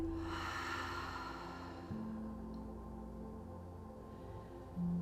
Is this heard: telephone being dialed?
no